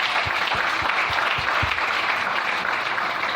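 A church congregation applauding, a steady wash of many hands clapping throughout, with a few close, heavier claps standing out early on and no speech.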